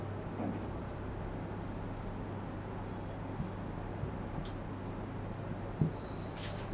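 Faint scratching of someone writing out Java code by hand, soft and continuous with a few light taps, heard quietly and alone.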